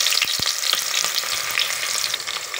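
Onions fry in hot oil with mustard seeds, a dense, continuous close sizzle with scattered crackles and pops throughout, and no voices.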